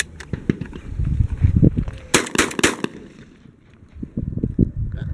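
A Benelli M2 shotgun fires Winchester 3-dram, 1200 feet-per-second, 1 1/8 ounce loads on a shooting range, a quick string of loud sharp blasts with cycling action clatter between shots.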